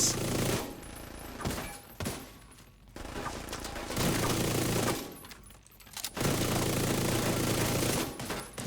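Bursts of rapid automatic gunfire from a video game rattle in several long volleys separated by brief quieter gaps, fairly loud and dense, with no voices over them.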